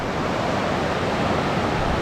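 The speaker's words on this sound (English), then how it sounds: "You can see the river's ripping along out there" Fast-flowing, muddy Copper River water churning past, a steady dense broadband rush with no breaks, close and fairly loud, with no voices.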